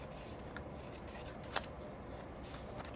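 Scissors snipping through paper while trimming a shape for a geometric collage, a single short cut standing out faintly against a low steady room background.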